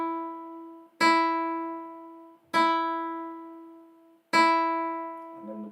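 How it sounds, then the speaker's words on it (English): Three separate plucks of a guitar's top E string, each ringing out clearly and decaying slowly before the next is struck, played alone at a steady, unhurried pace for tuning. "So our top E string is going to sound like this."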